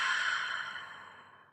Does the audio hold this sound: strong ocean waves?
no